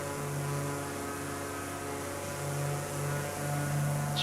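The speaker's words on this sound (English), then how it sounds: "that Mooney sounds beautiful, doesn't it?" A Mooney Ovation light aircraft's piston engine in Microsoft Flight Simulator 2024 drones as a steady, low, even hum, quiet and unbroken, with no voices over it.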